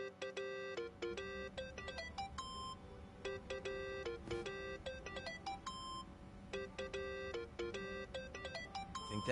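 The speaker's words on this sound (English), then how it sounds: "That's your phone, man." A melodic electronic phone ringtone from the video game Yakuza plays in repeating bright beeping phrases, loud and steady over a low background hum, with no talking.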